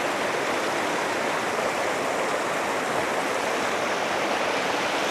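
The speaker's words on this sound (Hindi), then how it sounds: "तो ये नदी का बड़ा रूप ले लेती है।" A mountain river in Tajikistan rushes in a loud, continuous broadband roar of churning water, steady and close with no voices.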